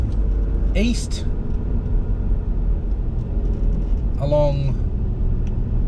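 A car drives along South Perth Esplanade with a steady low road and engine rumble under someone talking, with brief higher sounds passing now and then.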